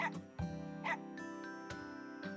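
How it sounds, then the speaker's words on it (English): A dog in a video game barks at the same spot in a short run of yips and woofs, with a faint jingle, over steady background music. "Todamara refused to follow Sayaka's lead and instead kept barking at the same spot."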